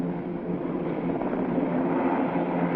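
A Lockheed AH-56 Cheyenne attack helicopter climbs and hovers nearby, its engine and rotors making a steady, muffled roar throughout, with no breaks or speech.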